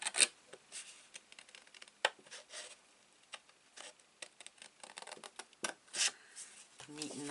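Scissors cut paper at an angle for a recipe album page, with a busy string of short snips and paper rustles close to the microphone and a voice talking intermittently over them.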